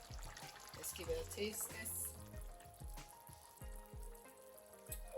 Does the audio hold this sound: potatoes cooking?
yes